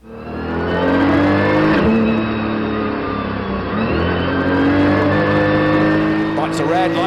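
A GT2 race car at Paul Ricard floors it from pole at the race start, its engine roaring loudly and climbing through the gears, with a commentator talking over the din.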